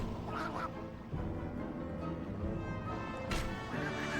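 Ducks quack repeatedly in a duck hunt minigame of MediEvil Resurrection on PSP, a busy layered stream of calls running steadily under game music without pause.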